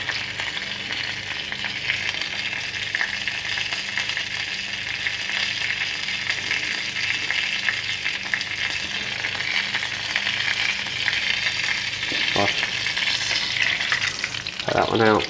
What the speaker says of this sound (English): Just going to fry this one up a little bit more.